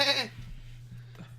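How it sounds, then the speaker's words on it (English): A goat gives one short bleat right at the start, followed by quiet room hum and faint low murmurs. "did I hear the goat?"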